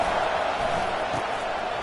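Broad roar of a home stadium crowd in a college football video game, California Golden Bears versus Auburn Tigers, steady and loud across the whole moment.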